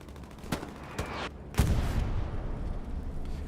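Artillery fire in the game Hell Let Loose at Omaha Beach: several sharp blasts in quick succession, the last a heavy booming impact that trails off into a rumbling roar, loud and close, with no talk.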